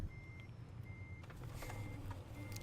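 A Renault Range T480 Euro 6 V6 truck reverses in Euro Truck Simulator 2, its backup alarm sounding as regular high steady beeps over a low engine rumble, fairly faint.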